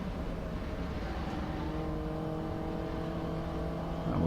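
A 2018 Mini Cooper S race car in the MINI Challenge at Oulton Park, its engine droning steadily from inside the cabin as the throttle is feathered through a corner, loud and continuous, swelling slightly at the end.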